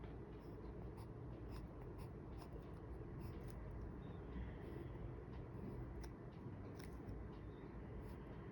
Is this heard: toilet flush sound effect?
no